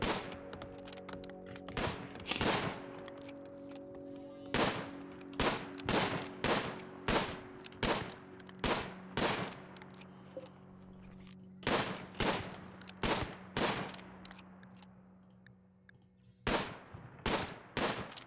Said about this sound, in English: Oh, really not good at shooting this turkey